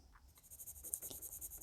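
A Chikyu Gold & Black Japanese drawing pencil, graded 2B, scratches across paper in a quiet, steady run of soft strokes, close and faint with no voice.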